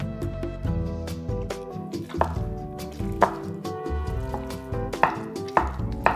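A knife on a cutting board chops fresh mozzarella into pieces with irregular, moderately loud knocks, while soft background music plays throughout.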